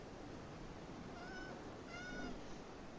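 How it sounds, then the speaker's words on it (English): A pet cat meows twice in a faint, thin voice, once and then again moments later, over a steady hiss of background noise. "That is my actual cat meowing at me."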